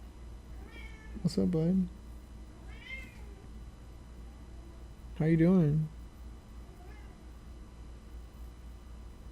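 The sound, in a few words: cat meowing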